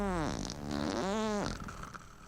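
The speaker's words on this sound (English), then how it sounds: "Fart joke." A cartoonish fart from the game Warcraft Adventures: Lord of the Clans, heard as two long, sliding, rubbery blasts that rise and fall in pitch, loud and up front.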